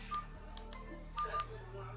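A Micromax X412 keypad mobile phone powers on with a few short, faint electronic tones in two small clusters over a low hum.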